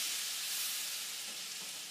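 Butter melting in a pan on the stove for shrimp scampi, a steady, close, hissing sizzle that carries on evenly and fades slightly, with no voices.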